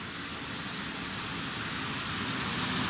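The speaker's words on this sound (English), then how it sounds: "the jet engines passing by" Airbus A319 jet engines in the FSX flight simulator give a steady, loud broadband roar with a high whine, growing slightly louder as they pass, with no voices.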